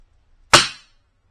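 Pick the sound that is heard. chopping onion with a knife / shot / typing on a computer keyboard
shot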